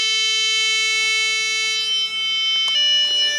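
A tuner's pitch pipe plays the guitar's A string note, a steady electronic tone held for about three seconds and then changing pitch briefly near the end, with no talking.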